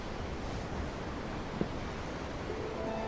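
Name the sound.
ocean waves in the Tales of Arise video game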